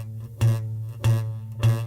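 Bass guitar note played repeatedly with the fret not pressed hard enough, giving three low plucks about half a second apart with a buzzy, rattling edge, close and alone.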